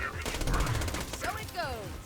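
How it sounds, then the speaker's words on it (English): An SMG fires a fast rattling burst in Borderlands 2, sharp repeated shots running for about a second amid game effects and whooshing sounds, loud and close. "Let's switch back to the SMG here."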